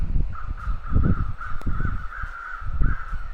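Crows cawing in the survival video game The Long Dark, several harsh caws in quick succession over a low, rumbling wilderness background.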